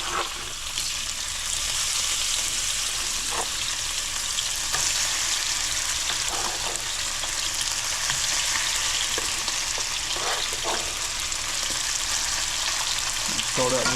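Chicken pieces fry in hot oil in a pan for a Tuscan chicken pasta, a steady loud sizzle with occasional crackles and faint stirring or handling clicks.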